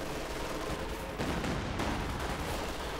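Katyusha rocket barrage in Company of Heroes 2, a dense continuous roar of overlapping rocket launches and blasts lasting the whole stretch, loud and unbroken with a brief swell partway through.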